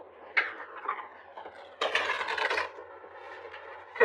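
Tarot cards shuffled and pulled from a deck, a close, dry papery riffle with light slaps and flicks, one longer rustling burst in the middle, no talking.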